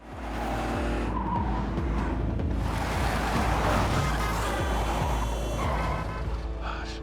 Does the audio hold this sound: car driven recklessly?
yes